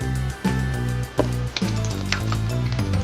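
Sweet corn soup boils in a pot on a stove turned up to full heat, giving a steady close bubbling and sizzling hiss with a few small pops and no speech.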